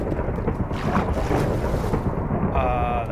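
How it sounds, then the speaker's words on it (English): Thunder in modded Minecraft, a loud, deep rolling rumble filling the whole moment, with a higher tonal sound coming in toward the end. "That was a lot of thunder."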